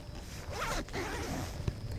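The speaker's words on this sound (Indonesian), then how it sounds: "Termasuk resleting utama yang ada di jaket ini pakai zipper waterproof juga." The waterproof zipper on a Carumby jacket is pulled open, giving a close, raspy zip with one or two short ripping pulls, then a small click. No one speaks.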